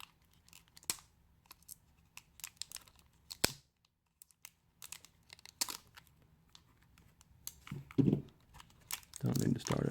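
A sharp knife cuts open the plastic wrap on a card-game gift box: scattered crinkles, scratchy slicing and sharp plastic snaps, close and fairly faint, getting denser toward the end, with talking heard.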